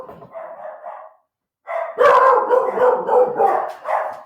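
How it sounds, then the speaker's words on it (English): A pet dog barks excitedly indoors at people walking dogs outside, two loud bursts of barking with a brief gap, the second a rapid, near string of woofs and yips. "people are out walking their dogs, and my dog's going crazy"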